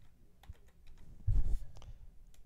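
Typing on a computer keyboard while naming an item, a short cluster of close keystrokes peaking in the middle, with scattered lighter clicks around it.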